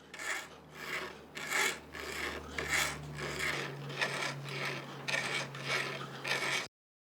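A metal wedding ring is polished entirely by hand without machines in a Kyoto workshop, a close, rhythmic rasping rub repeating in quick strokes about once or twice per second, with a low hum beneath that stops abruptly at the end.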